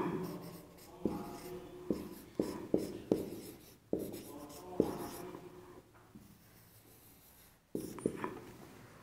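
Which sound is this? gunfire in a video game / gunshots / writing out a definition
writing out a definition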